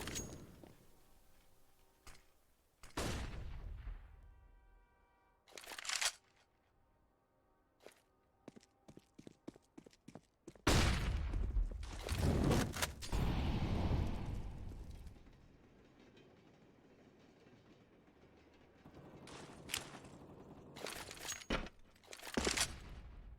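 M4 rifle fire in a Counter-Strike match on the Train map, with rapid bursts of shots and sharp impacts that come in clusters between quieter stretches of footsteps and game ambience, with no voices.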